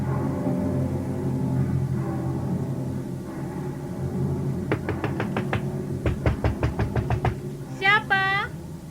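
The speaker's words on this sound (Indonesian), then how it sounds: "Jangan keras-keras mengetok pintunya. Nanti rusak pintu rumahku." Hard knocking on a wooden house door, a rapid series of loud raps in two clusters, preceded by low murmuring voices and followed by a brief tonal cry.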